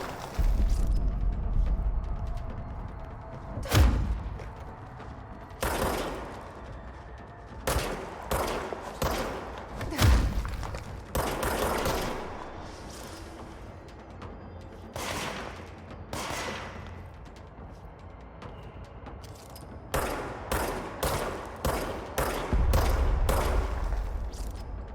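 Gunfire in the video game Control: scattered loud shots and short rapid bursts, some booming, spread irregularly with quieter gaps between them, no talking.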